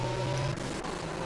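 Ferrari race car engine drones steadily in a Formula racing game at the Miami circuit, a loud sustained whine that shifts pitch midway as the car changes gear.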